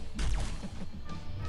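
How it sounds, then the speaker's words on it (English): Ice armor shatters in Marvel Contest of Champions with a loud crash and whooshing sweep, followed by a few fainter impact hits as the fight continues. "I need to shatter the ice armor again, just with the parry there"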